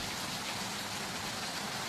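Rain falls in an even, dense hiss. It is steady and moderately faint, with no voices or other sounds over it.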